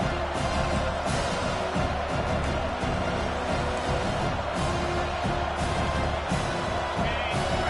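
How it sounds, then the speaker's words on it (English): A football stadium crowd roars on a third-down defensive play, a dense, loud, sustained wall of cheering and noise with no breaks. "Decibels rising as the crowd gets behind this defense on third down."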